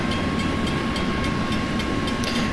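Train rolling by in the Trainz railroad simulator, a steady low rumble of wheels and engine with faint periodic clicks as cars pass, continuous and moderately loud throughout.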